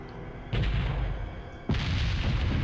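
Two heavy cannon blasts boom in Resident Evil 4, each a sudden broad burst that rumbles on into a long roar, spaced about a second apart, with no talk.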